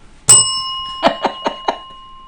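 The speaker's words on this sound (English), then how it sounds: "Please refrain from nefarious bells." A bell rung during a quiz on a live show gives one bright, ringing ding that lingers and slowly decays, followed by four quick, dull taps in an uneven row.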